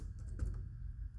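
Keystrokes on a computer keyboard, a quick run of soft clicks in close succession, near and fairly quiet with no one talking.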